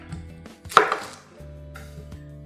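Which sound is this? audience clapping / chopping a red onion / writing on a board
chopping a red onion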